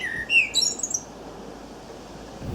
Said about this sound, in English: we put a blackbird on it. So there's a blackbird singing at the very end.